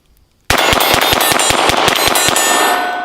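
Rapid shots from a Ruger Mark IV rimfire pistol ring off a steel cowboy target, about a dozen sharp, evenly spaced cracks and clangs in quick succession, loud and close outdoors.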